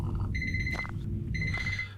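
A timer alarm sounds in the space survival game Empyrion Galactic Survival at a planetary base. Two bursts of electronic beeping ring clearly over a low, rumbling ambient background.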